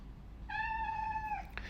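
A domestic cat lets out a single drawn-out meow, clear and close, holding steady for about a second before trailing off over a quiet room.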